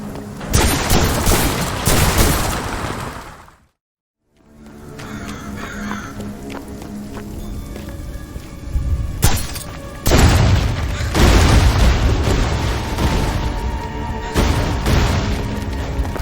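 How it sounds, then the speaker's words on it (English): Wrist crossbow shots in the dark fantasy game Graven, sharp percussive twangs and thuds scattered through loud, busy combat sounds, with a brief silent gap early on. "This is one of the first weapons you can pick up in Graven, the wrist crossbow."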